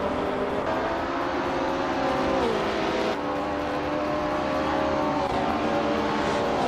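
A 1968 Porsche 909 Bergspider races at the Feldbergring in a video game, its engine a steady, loud, dense roar with pitch shifts like gear changes, and other cars close by.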